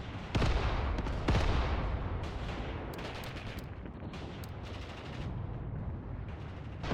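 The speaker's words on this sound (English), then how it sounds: "Has to be some kind of artillery" Distant artillery booms roll in from a World War II battle in the game Mius Front. Two sharp, heavy blasts come early, followed by a continuous rumbling barrage with scattered crackling reports.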